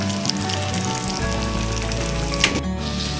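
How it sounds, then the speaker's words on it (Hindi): Rava-coated surmai fish fries in a pan with a continuous, close crackling sizzle of hot oil, steady and fairly loud throughout. "आता आपण ही मच्छी 10 मिनिटासाठी एक बाजूने पूर्ण फ्राय होऊन देऊया आणि त्यानंतर आपण ती पलटी करूया।"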